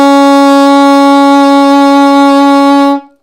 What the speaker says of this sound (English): So an A sharp, a B flat sounds like this.